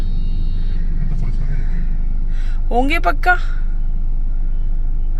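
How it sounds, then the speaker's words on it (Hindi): Steady road rumble of cars and trucks idling and creeping in a highway traffic jam in the NCR, a low continuous drone with a voice talking over it. "यहाँ फंस गए हम हाईवे पे जाम में।"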